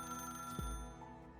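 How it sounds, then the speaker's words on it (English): A telephone rings in the video game Arknights, a faint electronic ringtone with steady sustained tones over a soft musical background, accompanied by a brief low swooping effect. "The phone rings again."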